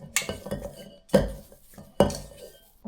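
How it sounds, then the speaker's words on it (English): Red velvet cookie dough being mixed by hand in a bowl, giving three or four separate scraping clinks of a utensil against the bowl, close and fairly quiet, with no talking. "I'm gonna be mixing this manually now."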